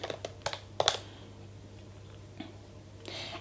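Typing on a MacBook Pro keyboard: a quick burst of close, crisp key clicks at the start, then a couple of isolated taps and a short flurry near the end, over faint room hum.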